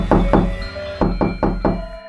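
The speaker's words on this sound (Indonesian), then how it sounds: "Kayak ibaratnya orang ketok-ketok pintu." Knocking on a door, two quick knocks, a pause, then three more evenly spaced raps, loud and close with no voices.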